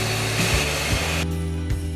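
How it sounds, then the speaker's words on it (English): An electric whisk beating aquafaba with vanilla extract, xanthan gum and cream of tartar, a loud steady motorized whir that dips briefly in pitch a few times as it runs. "Use an electric whisk to mix."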